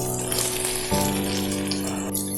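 Shallots and onions for chicken curry sautéing in a hot pan, a steady close sizzle with a brief louder hiss as they drop in, no talk.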